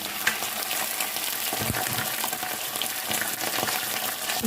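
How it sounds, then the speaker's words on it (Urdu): Chicken pieces fry in a pan with onions already browned golden, giving a steady close sizzle with occasional stirring clatter and no talk. "چکن کو اچھے سے فرائی کریں گے۔"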